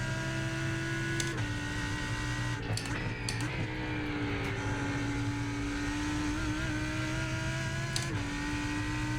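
A Lamborghini GT3 race car drifting at Imola in iRacing drones with a steady engine note, dips briefly as it shifts, and carries short sharp clicks and tyre scrubs, loud and close throughout.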